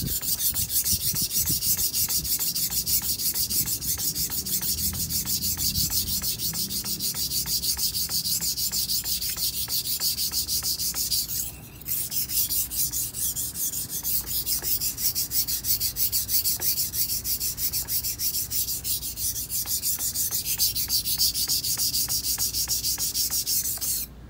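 A knife blade is worked back and forth on a whetstone in steady, rapid rasping strokes, a continuous close grinding scrape with a brief pause midway.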